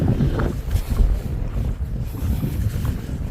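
Strong, steady wind roars and buffets the microphone atop Chokramudi peak in Kerala, a misty mountain summit, continuous and close throughout with no talk.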